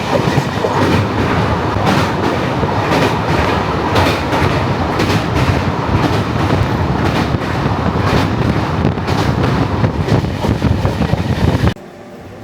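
The 22503 Kanyakumari–Dibrugarh Vivek Express rolls across the Damodar river bridge in India, a loud continuous roar and rumble heard from aboard with steady rhythmic clickety-clack of wheels over rail joints, broken off abruptly near the end.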